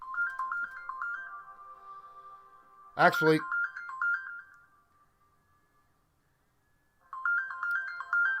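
A phone ringtone for an incoming call, a bright repeating electronic melody that plays for several seconds, breaks off when someone speaks briefly over it, then starts again near the end.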